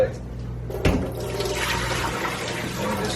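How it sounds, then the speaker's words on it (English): Water poured over a broccoli plant, a steady wash of splashing and running liquid that starts with a sharp splash and continues close and fairly loud, with a voice talking underneath. "Now we're gonna give it a drink of water."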